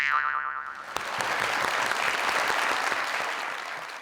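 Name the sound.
audience clapping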